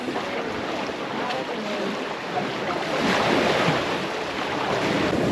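Sea waves roll onto a beach beneath cliffs on the Portuguese coast, producing a steady, broad wash of surf with wind buffeting the microphone. The sound swells slightly louder partway through, and there is no talking.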